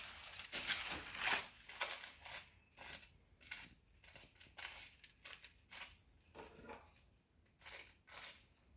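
A freshly sharpened knife slicing through fishing line, giving a quick run of crisp, faint cutting and rustling strokes in close succession, quiet and close with no voice.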